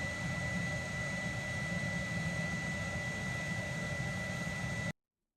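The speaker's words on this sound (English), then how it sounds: "Like a jet engine lull." Jet-engine-like roar playing back from a video: a steady, dense roar with a faint constant whine that holds at an even level for about five seconds, then cuts off abruptly to silence.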